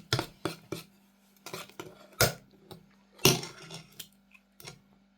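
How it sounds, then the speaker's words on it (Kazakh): A whisk or utensil clattering quickly in a bowl while eggs are beaten for a honey cake batter: sharp, irregular clinks and taps in bursts, close and fairly loud, over a faint steady hum. "жұмыртқаны тез араластырып тұрамыз"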